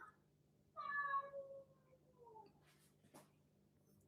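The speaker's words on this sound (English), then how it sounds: "The cat's crying like he's seen some ghosts" A house cat lets out one clear, drawn-out meow in a quiet room, followed by a softer, falling second cry and a faint click.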